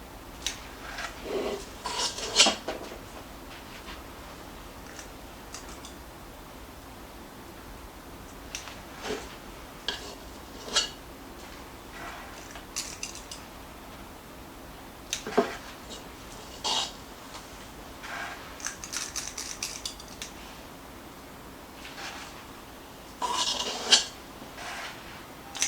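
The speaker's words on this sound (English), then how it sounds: "I'm just going to use a small cookie scoop, and I'm just going to scoop this into the caps, kind of push it in a little bit." A small cookie scoop scrapes and presses crab stuffing into mushroom caps, making soft intermittent scraping and rubbing strokes with light clinks against a bowl or tray, close and alone without talk.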